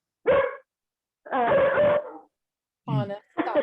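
A dog barks in three short loud bursts with gaps between, the middle bark drawn out and harmonic, heard up close in a quiet room during a paranormal investigation at Bobby Mackey's Music World.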